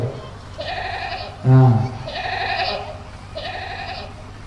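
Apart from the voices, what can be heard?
goat bleating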